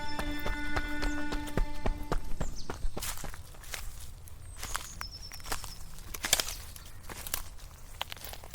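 Horse trotting on a hard surface, a steady run of close, clear hoof clip-clops with a few sharp knocks, no talk.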